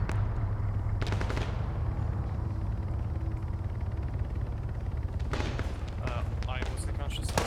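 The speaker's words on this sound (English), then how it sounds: "Trying to shoot the window out." Sharp gunshots crack in a video game, part of an attempt to shoot out a window: a cluster near the start and several more toward the end over steady engine-like rumble, with talking at times.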